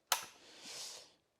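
Hilti SL10 work lamp pushed down to fold shut, giving one sharp, close snap followed by a soft hiss-like rustle fading within about a second.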